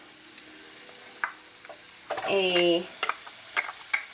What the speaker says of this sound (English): I'm going to go ahead and start stirring that in together with the garlic.